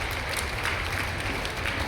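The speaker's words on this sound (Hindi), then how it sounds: "जोरदार ताली माननीय नरेंद्र मोदी जी के लिए बजाएं एक बार" Audience applause at a chief minister's public event in Ghatigaon area, Gwalior district, a steady dense clatter of clapping across the whole stretch with no voices over it.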